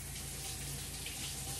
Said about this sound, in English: Let me wash that off my fingers.